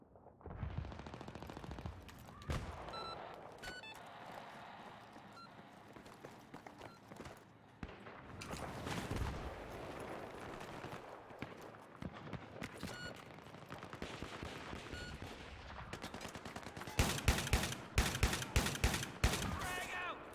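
Video-game gunfire rattles in repeated automatic bursts and single cracks, with rapid footsteps between volleys and a dense, loud flurry of shots near the end.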